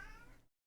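A cat meows in The Sims 2, one short quiet call that fades out quickly into silence.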